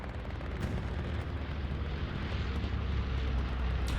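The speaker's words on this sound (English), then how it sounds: "I think I hear a bombing run" A bombing run in the World War II shooter Hell Let Loose rumbles as a dense, continuous roar of heavy explosions and aircraft noise, loud and sustained.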